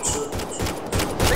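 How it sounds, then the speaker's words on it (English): Rapid bursts of gunfire from a sci-fi firefight in Mass Effect: Andromeda, set in 2185, crackling in repeated volleys that fill the short stretch with little pause. "They shot him!"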